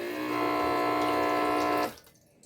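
A homemade automatic tap with an IR sensor and a 555-timer circuit sends out a steady, close stream of water that stops abruptly after about two seconds, leaving quiet.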